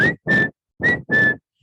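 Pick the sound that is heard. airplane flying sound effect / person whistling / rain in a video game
person whistling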